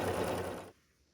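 Sewing machine stitching lines across a baby quilt, a brief close burst of fast mechanical whirring that stops suddenly, leaving quiet.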